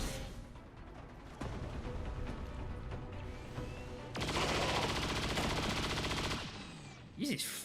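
Gunfire rattles in the video game XCOM 2 as a sustained automatic burst plays over dense game music and effects, loud and close, with a voice talking partly alongside it.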